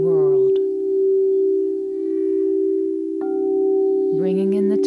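A crystal singing bowl tuned to 432 Hz rings a sustained, pure, steady tone that holds throughout, with a calm voice speaking at the start and end.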